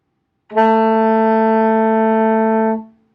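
A single sustained alto saxophone F sharp held steadily for about two seconds, clear and fairly loud, then stopping cleanly.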